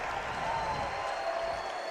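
A basketball crowd at a boys' state championship final, Newcastle vs Carl Albert, heard as a steady, fairly distant wash of cheering and clapping in an arena, with a faint whistle-like tone over it.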